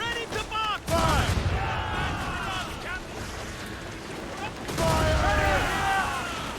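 Naval battle in Assassin's Creed Rogue: a sailing warship's cannons and mortars fire in heavy booming volleys, with shouted crew orders over loud rumbling blasts and ship noise.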